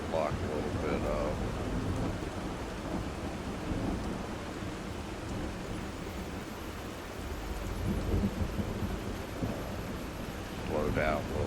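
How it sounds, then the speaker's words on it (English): A night thunderstorm with rain in The Last Caretaker, a steady wash of rainfall and low rumbling thunder rolling on throughout, with occasional brief voice-like sounds over it. "Hopefully the storm will pass by before we get there."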